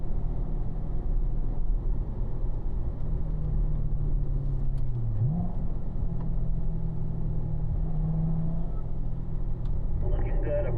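A Corvette engine accelerating through the gears on a race track, a loud, steady in-cabin drone with a rising and falling pitch around a shift, continuous throughout.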